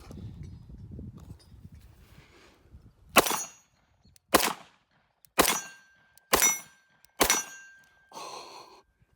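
Wilson Combat 9mm pistol fired five times at a steady pace, each shot a sharp loud crack with a short decay, following some quieter handling noise.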